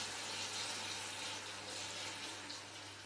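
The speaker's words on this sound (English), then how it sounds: "I'm going to be very careful to pour it in so this doesn't splash up" Caustic lye solution poured carefully over olives: a steady, close trickling and splashing hiss that runs unbroken for a few seconds with no voices.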